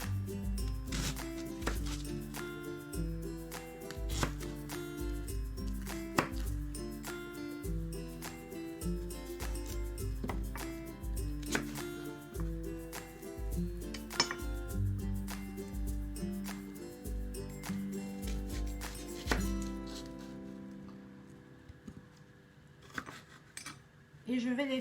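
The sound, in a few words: slicing red onion into large strips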